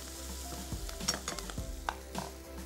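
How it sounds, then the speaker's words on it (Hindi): Fresh parsley fries in hot oil in a pan for a spaghetti dish, giving a steady close sizzle with occasional stirring clicks and scrapes. "और इसको हमने थोड़ा सा फ्राई करना है ताकि इस ऑयल में बड़ा अच्छा सा एक फ्लेवर"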